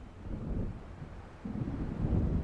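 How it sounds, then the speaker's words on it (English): A low, rolling rumble of thunder from an approaching storm in the video game Alan Wake, distant and steady, swelling slightly toward the end with no other sounds on top. "It seems there's a storm coming."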